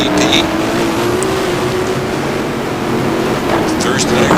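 GT1 race cars lapping the Interlagos circuit during a feature race, a steady loud engine drone with cars pressing close together, under constant commentary.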